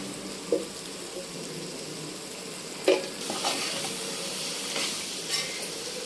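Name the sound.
brinjal and dry fish curry frying in oil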